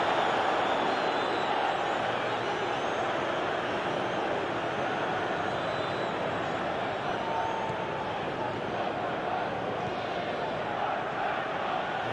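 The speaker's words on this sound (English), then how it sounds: "the crowd clearly like what they just saw" A stadium crowd in the eFootball 2021 video game at a Chelsea versus Manchester City FA Cup final, a dense, steady roar of cheering that stays loud and unbroken throughout.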